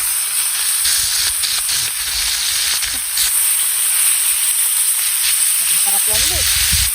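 Marinated food cooks over an open fire in a loud, steady sizzle with a bright hiss and occasional crackles. Brief low voices murmur beneath it.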